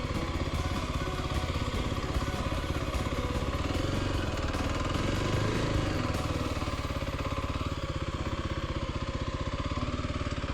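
A dual sport motorcycle engine putters steadily at low speed during slow maneuvering on a roadside pullout, a close, even, rapid thrum that holds for about ten seconds without voices.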